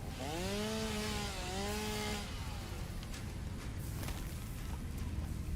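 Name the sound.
chainsaw cutting trees in video game Satisfactory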